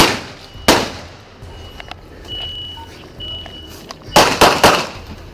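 Sharp gunfire reports on a police bodycam during a warrant service at a residence: one loud crack early, then a quick cluster of three or four close shots near the end, with beeping and faint background noise between.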